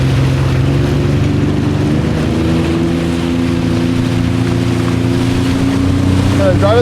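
A Sea-Doo personal watercraft engine runs on open water as a steady, droning whine with a constant pitch, heard from a moderate distance under wind noise on the microphone.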